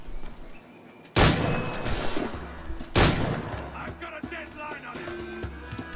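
Ship cannons fire in Assassin's Creed IV, two heavy booming blasts a couple of seconds apart followed by scattered smaller shots and rumbling, loud and close.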